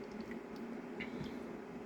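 Thin liquid 3D printer resin pours steadily into the vat of an Apexmaker X1 printer, a soft continuous trickle with faint splashy drips, close and quiet.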